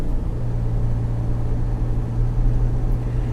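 A Mahindra Scorpio N accelerates, heard from inside as a steady, loud low engine drone and rumble with a constant hum and road noise that hold without a break.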